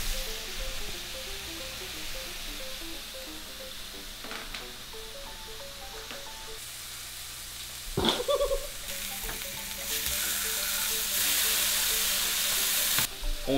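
Burger patties fry on a hot griddle as raclette cheese melts over them, a steady close sizzle with a scrape around the middle and the hiss growing louder toward the end.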